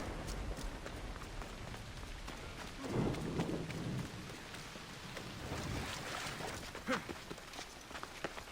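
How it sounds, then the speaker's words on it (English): A thunderstorm in the Assassin's Creed Odyssey game comes through as a steady hiss of rain with a brief low rumble of thunder partway through, faint and distant throughout. "Thunder didn't last very long."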